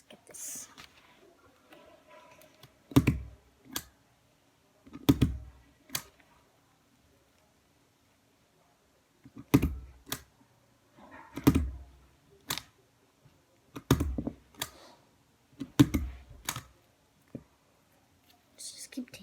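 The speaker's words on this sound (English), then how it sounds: "Stapling all the French fries together." A stapler punches through paper French fries for a paper squishy in sharp clustered clicks, several separate bursts spread out with quiet gaps between them, close and crisp, with soft whispered talk in places.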